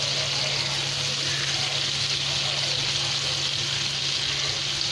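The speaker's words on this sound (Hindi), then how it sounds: "तो फ्राई करने में ज़्यादा वक्त बिल्कुल नहीं लगता है" Mutton chaap chops sizzle steadily in a pan as they fry for Bakra Eid, a loud, continuous hiss with a faint low hum and no breaks.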